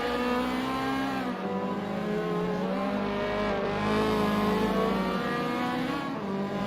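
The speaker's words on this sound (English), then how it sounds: "Very, very competitive racing here in the Honda Civics." Honda Civic race cars howl around Bushy Park Circuit in a sim racing game, engines droning loud and continuous with rising and falling revs as several cars run close together.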